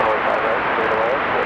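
A fixed-wing airplane on approach to land on runway 5 right at Raleigh-Durham International Airport gives a steady, broad engine roar that holds level throughout, fairly loud and continuous with no break.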